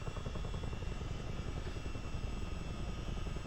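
A Chinook helicopter in Microsoft Flight Simulator 2024 roars steadily during takeoff, its rotors thumping in a dense, continuous low rumble that fills the whole moment, loud and close with no voices.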